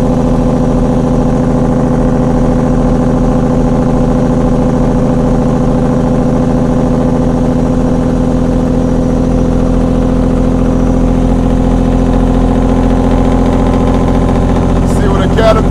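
A Caterpillar engine in a Peterbilt 379 truck with a 7-inch straight pipe drones loud and steady from inside the cab, a constant deep rumble with layered harmonics that holds on without a break.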